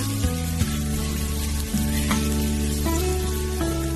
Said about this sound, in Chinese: 炒香之后再把青红椒加进来，